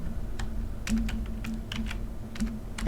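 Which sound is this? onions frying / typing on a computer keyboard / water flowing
typing on a computer keyboard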